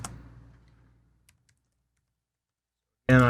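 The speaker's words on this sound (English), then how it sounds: "I'll type in that Morehead City address" A few faint, sparse keystrokes on a computer keyboard while an address is typed in, clicking quietly after a fading sound, followed by a person starting to speak.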